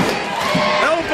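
Wrestling arena crowd at an IWC event roars in a dense, loud, continuous wash of cheering and shouting, close and filling the space.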